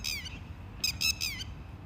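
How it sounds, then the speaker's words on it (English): A myna bird gives harsh squawks and chattering calls, a rasping call at first, then three quick loud bursts close together, alone and fairly near. "Mina."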